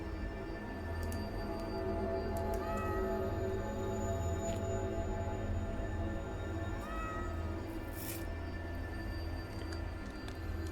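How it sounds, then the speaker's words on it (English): Cats meow in a video game, quiet and intermittent, heard over a steady hum of background music and ambience in a grave-digging excavation setting. "Herbert the cat"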